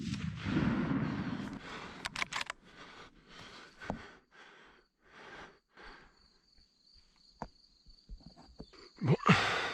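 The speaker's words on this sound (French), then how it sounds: "ce sera un deuxième tir raté" A hunting rifle shot at a roe buck from a hide, a missed shot, rings out as a sharp, loud crack. Several sudden knocks and rustles surround it, and a thin insect whine runs steadily in the background.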